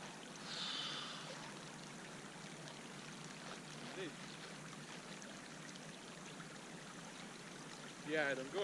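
River water carrying ice flows in a steady, faint wash, with a soft trickling rush throughout and brief quiet voice-like sounds near the start and end.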